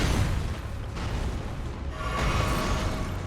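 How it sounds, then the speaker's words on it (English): Explosive boss attack from Godfrey, First Elden Lord, in the Elden Ring video game: a dense, sustained rumbling burst with booming low end and a brighter crackling swell toward the end, loud and continuous. "Oh, he's doing the explosion stuff now"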